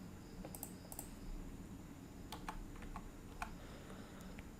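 Soft, scattered keystrokes on a computer keyboard as a payment amount is entered, a few quick clicks then a sparse run of light taps over a steady low background hum, no voices.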